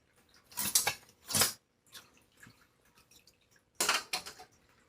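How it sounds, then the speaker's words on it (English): Spoon and cutlery handled in a kitchen: a few sharp metallic clinks and rattles in uneven bursts, with quieter small knocks between them and near silence otherwise, close by, no talking. "I'm going to grab a spoon"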